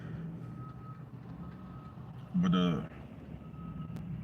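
A Mack truck backing up gives a single short burst of reversing beeps, a bright electronic tone heard partway through over steady street traffic, with someone talking nearby.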